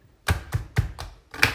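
A Quick Slice manual slicer chops pork in a kitchen with a run of sharp, close knocks: four quick strikes, a short pause, then one more.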